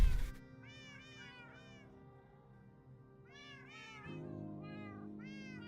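Minecraft cats in the GT New Horizons modpack meow repeatedly in clusters of short, high, wavering calls over a quiet low hum, with gaps of near-silence between bursts.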